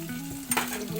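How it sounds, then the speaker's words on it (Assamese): Pumpkin pieces frying in hot oil with onion and chilli in a wok, a brief sizzle with a sharp burst of crackle midway, close and fairly quiet. "এতিয়া কোমোৰাখিনি বহাই দিম।"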